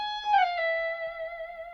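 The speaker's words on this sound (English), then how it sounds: "You actually press down with the slide, and then you can hear the frets going by" A slide guitar note, the slide pressed down so the frets are heard going by, glides downward then settles into a sustained, shimmering tone, fairly quiet and close, with no talking.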